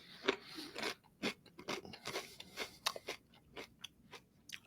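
Someone bites into a crisp mango habanero pepper close up, giving a run of sharp, wet crunches and chewing sounds at an uneven pace, with no talking.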